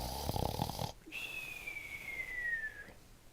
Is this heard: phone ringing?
no